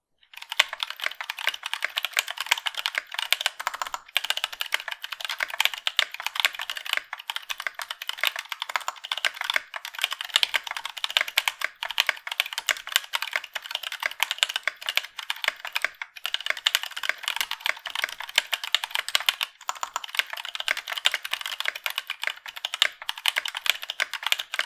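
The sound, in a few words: typing on Kineticlabs Penguin tactile switches in a keyboard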